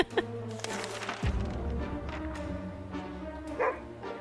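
A dog in the survival video game 60 Seconds gives a sharp bark, then a low rumbling growl and whimpering yips, fairly loud and close, with game sound underneath.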